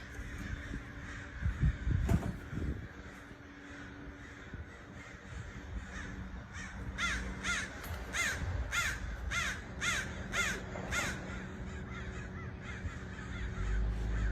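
Ravens give a run of hoarse caws, several calls in quick rhythmic bursts over steady outdoor background noise, fairly close and clear.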